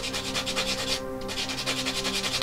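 A sanding tool rubs steadily against a plastic part of an Airfix 1/72 Tiger 1 model kit, a close, continuous rhythmic scraping in quick back-and-forth strokes with a brief pause midway.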